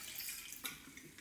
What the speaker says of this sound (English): I'm just gonna be filling this back up with water